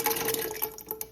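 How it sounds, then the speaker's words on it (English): Water pours steadily into a large cooking pot while Jamaican rice and peas are being prepared, a close, continuous splashing with a few sharper drips near the end. "we're going to add water"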